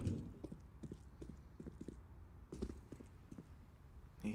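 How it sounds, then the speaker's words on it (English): A player's footsteps sound in a professional Counter-Strike match at a Major tournament, a steady run of soft, evenly paced thuds at moderate distance over low background hum, with no one speaking. "He hears the footsteps of FNX."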